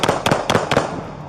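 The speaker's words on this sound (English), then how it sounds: "Shots fired!" Police officers firing gunshots at a knife-wielding suspect during a confrontation, several sharp loud bangs in quick succession, about four close bursts spread over a second.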